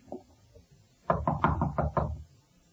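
Knuckles rap on a door in a quick run of about six firm knocks in an old-time radio drama, after a couple of faint taps.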